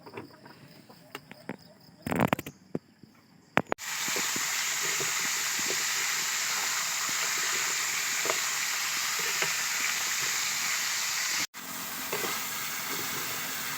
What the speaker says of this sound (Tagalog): Pinutol-putol ko na. Gigisahin ko siya.